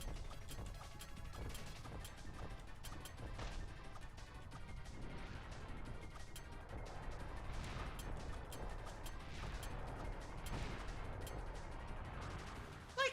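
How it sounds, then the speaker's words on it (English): Fast-moving exploding projectiles in Kirby 64: The Crystal Shards pop and crack in a rapid, busy stream of bursts and clatter, fairly quiet and continuous throughout. "I just have like really fast moving projectiles that explode"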